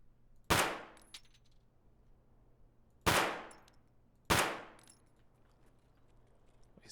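Gunfire in the Escape from Tarkov video game: three sharp, loud single shots ring out with short decaying tails, spaced unevenly over a quiet background.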